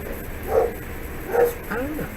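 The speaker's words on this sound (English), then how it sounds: "My dogs are now barking." Dogs bark and yip in a few short bursts in the background while a person keeps talking over them.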